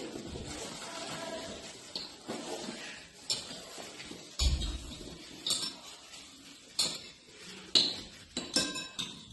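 Spoon clinking and scraping against a bowl while baking soda is stirred in, a quiet series of irregular metallic taps and chinks with soft rustling between them.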